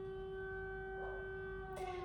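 Sirens wail steadily in the distance, a sustained tonal drone with stacked harmonics that holds level, faint and alone with no voices.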